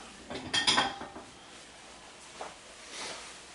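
Dishes and a bowl clink and rattle in a home kitchen while potato and smoked sausage soup is served, a cluster of close clatters followed by sparser light knocks.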